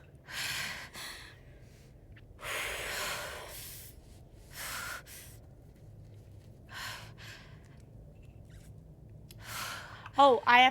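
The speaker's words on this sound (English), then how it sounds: "Her breathing is freaking me out." Kate Marsh breathes heavily in Life is Strange True Colors, with several loud, ragged breaths and gasps spaced out over quiet pauses, close and unaccompanied by talk.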